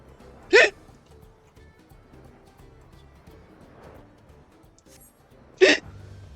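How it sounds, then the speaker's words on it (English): Two sharp, loud hiccups sound about five seconds apart, each a short burst, with quiet room background in between. "Getting hiccups."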